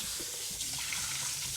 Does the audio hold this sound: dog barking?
no